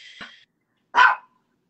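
Two short, sharp dog barks, separated by a pause of about half a second, loud and close with no other sounds around them.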